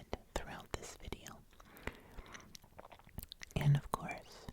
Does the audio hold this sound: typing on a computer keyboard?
no